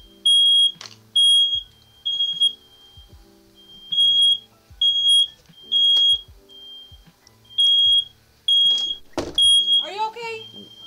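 Piercing electronic fire alarm chirps repeat in a steady on-off pattern, loud and near inside a room, while someone talks between and over the beeps.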